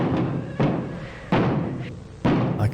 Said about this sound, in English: You mean the banging on the door?